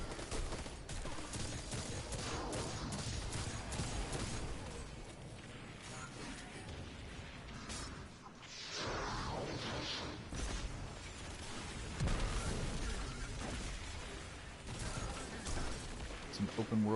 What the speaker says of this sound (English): I'm only trying to shoot a gun to hit things with